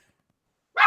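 One sharp dog bark bursts out near the end after near silence, close and fairly loud.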